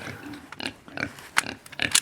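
A pig grunts in short snorting bursts, several irregular close grunts spread across a couple of seconds, with no talk.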